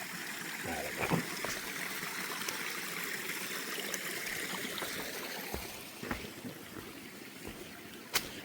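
Stream water flows steadily along the Appalachian Trail in North Carolina, a constant close rushing trickle with a few sharp knocks and clicks scattered through it.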